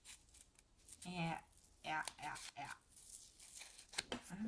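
Scissors snipping paper while making a St. Patrick's Day card, a few short crisp cuts in separate bursts, close to the microphone, with a quiet room in between.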